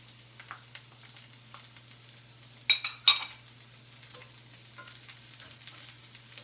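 Sliced radishes and scallions sizzle steadily in a hot pan, a soft continuous crackle broken near the middle by two brief, louder bursts of sputtering, with no talking.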